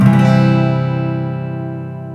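Full guitar chord strummed across all six strings with the third finger on the low E string at the third fret, a single bright strum ringing out and slowly decaying, alone.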